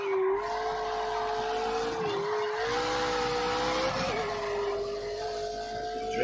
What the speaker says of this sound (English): Drifting around the right way.